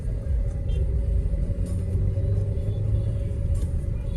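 A Hyundai i20 cruising on a highway, its steady cabin rumble and road drone continuous and close, with faint rustles over the top and no talk.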